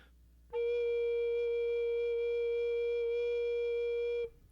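A single sustained F note on an alto recorder, a pure, steady breathy tone held for about four seconds, close and clear, with no talking.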